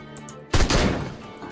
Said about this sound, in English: shoot one of these guys in the face